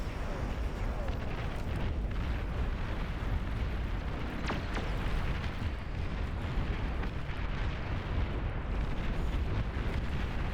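Rocket bots firing in an 8v8 Beyond All Reason match on the Starwatch map, a dense continuous roar of explosions and blasts with scattered sharper bursts, steady and loud throughout.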